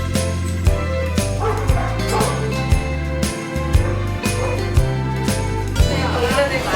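Dogs yip and bark inside a crowded dog cafe in Korea, with short bursts partly buried under loud, steady background music.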